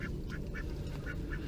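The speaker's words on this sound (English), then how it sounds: "I think I heard another duck right over there." A duck quacks several times in quick succession, fairly faint and somewhat distant in an outdoor food forest, over a steady low background rumble.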